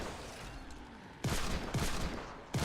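Several loud, sharp pistol shots fired in Fortnite during a horde fight, coming in quick irregular bursts against a rumbling game background.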